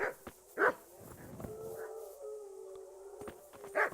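In the video game Kingdom Come: Deliverance, several dogs bark and yelp in scattered bursts, with howling tones between them and the loudest barks at the start and the end, and no one talking.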